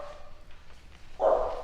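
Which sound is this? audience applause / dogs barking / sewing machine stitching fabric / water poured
dogs barking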